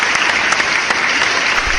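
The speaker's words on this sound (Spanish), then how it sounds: "Sonido de aplausos acá, por favor" A sound-effect burst of steady crowd applause plays on a podcast, dense clapping filling the whole moment without pause.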